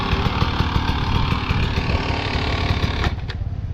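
A dirt bike engine rolls with the clutch pulled in during a clutch control drill, giving a steady close-up buzzing putter with a rapid pulsing rhythm before it briefly dips near the end.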